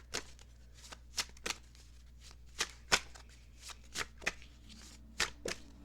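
A tarot card deck being shuffled up close, a run of quiet, crisp riffling snaps and soft slaps at an uneven rhythm over a low, steady room hum, with no talking.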